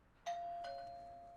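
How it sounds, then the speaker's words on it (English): A doorbell rings once at the door, a clear two-tone chime with a sustained tone that rings on and slowly fades, sounding alone at moderate level. "It's the bell!"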